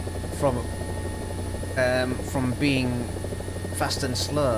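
Helicopter in the War Thunder simulator: a steady droning rotor and engine hum runs throughout, with someone talking over it.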